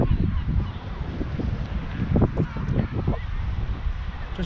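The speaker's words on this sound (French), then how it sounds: "La mouette est passée trop près de lui." Seagull squawking as it flies close overhead at the Blankenberge seaside, honking calls over wind noise and nearby voices.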